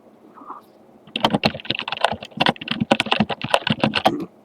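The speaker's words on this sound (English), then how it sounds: "let's type" Rapid, irregular clatter of keys on a computer keyboard, close and clear, coming in bursts of typing on a PC running ReactOS, with no voices.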